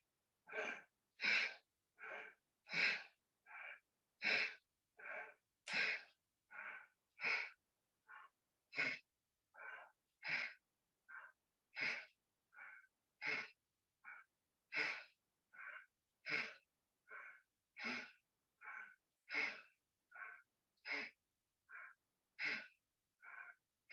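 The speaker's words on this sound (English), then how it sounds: "you breathe in and breathe out." Steady rhythmic breathing during a yoga breathing exercise, about thirty short, forceful breaths in quick even succession, close and alone with no talking.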